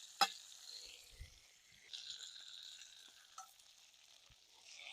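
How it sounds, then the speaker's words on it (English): Steak cooks in butter and garlic, giving a faint, soft sizzle with a few sharp clicks and bumps from the pan, quiet and close throughout. "Flip them over in that butter."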